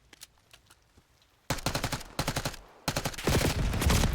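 Gunfire in Call of Duty Black Ops 6: faint scattered shots at first, then loud rapid automatic bursts up close, ending in a sustained dense volley.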